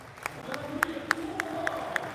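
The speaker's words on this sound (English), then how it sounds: "Listen to that crowd for Titouan" Spectators at a Bike Trials World Cup semi-final in France cheer and clap for rider Titouan, a rhythmic series of sharp claps and crowd bursts repeating about every quarter second over a steady murmur.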